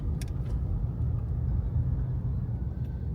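Steady city car traffic in Zamboanga City, Philippines: a continuous low engine and road rumble from nearby vehicles, moderately loud and unbroken, with no voices.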